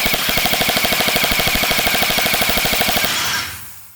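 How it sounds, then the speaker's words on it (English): An XYL ARP9 gel ball blaster running on a 2S battery fires a loud, rapid full-auto burst of about three seconds, with evenly spaced, fast mechanical cracks that stop abruptly and then fade out. "Now let's flick it on full auto and check the rate of fire"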